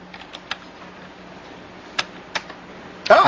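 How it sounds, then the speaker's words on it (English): Scattered keystrokes clack on a computer keyboard, a handful of sharp taps spaced irregularly over a low hum, ending in a louder burst of rapid clatter. "Now type in your misspelling."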